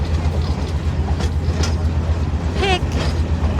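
Rumbling Southern Nevada Railway train ride at Boulder City, a steady loud rolling drone of the railcar with faint clatter and a brief voice over it.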